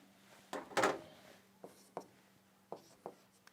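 Chalk or marker writing on a board in a chemistry lesson: a brisk scraping stroke, then a series of lighter taps and short strokes spaced out over a quiet room with a low steady hum.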